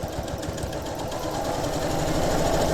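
Sewing machine running steadily while stitching quilt pieces with a quarter-inch presser foot, a close continuous motor whir with a rapid needle rhythm that builds slightly in loudness, no talking.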